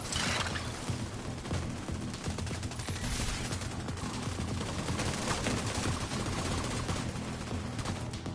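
Dense, continuous gunfire from shooting in Division 2, rapid overlapping shots at steady loudness throughout, with no voices.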